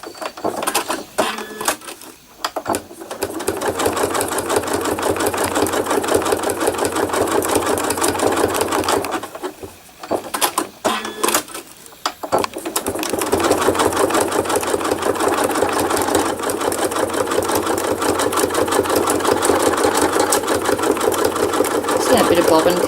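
A sewing machine stitches thread art in long bursts of rapid mechanical clatter, broken by two brief pauses where it halts and restarts, running close and loud throughout.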